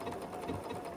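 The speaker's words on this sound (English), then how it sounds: "hold the two threads, and then start sewing with a triple stitch" A sewing machine runs steadily as it sews a triple stitch on a quilt binding, giving a quiet, even, continuous mechanical whir with no pauses.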